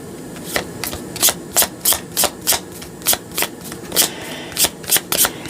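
A deck of playing cards is shuffled again and again, each riffle a sharp papery burst repeating in quick regular succession, close and loud with no talk.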